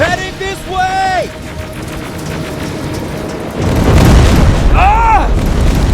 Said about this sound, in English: Rockets! They're heading this way!